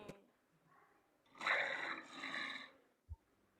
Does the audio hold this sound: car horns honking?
no